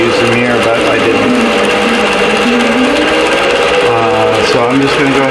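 A longarm quilting machine stitches across a vintage quilt with a loud, steady mechanical whir and rapid needle chatter that keeps going throughout, with a few small shifts in pitch as it moves.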